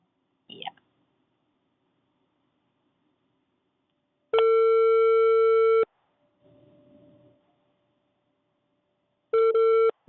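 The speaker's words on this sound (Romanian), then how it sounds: "Linia apelată este momentan ocupată" Telephone busy signal: loud steady beeping tones in two long bursts, with a brief recorded operator message spoken between them and a short noise at the start.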